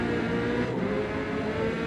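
A tuned Corvette race car engine screams at high revs in a racing video game, a loud continuous whine with a brief dip in the middle, heard alone without talking.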